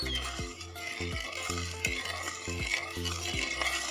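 A utensil scrapes steadily around a pot on the stove, stirring a dipping sauce of sweet dark soy sauce, sliced red chili and vinegar in an even rhythm of about two strokes per second, with a faint sizzle underneath and no talking.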